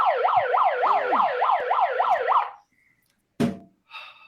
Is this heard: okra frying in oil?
no